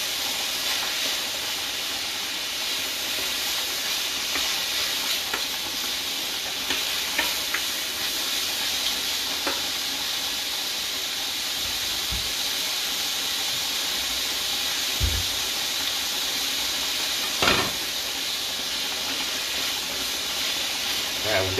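Food frying in a pan for spaghetti Bolognese, a continuous steamy sizzle and hiss with occasional clinks and light knocks throughout.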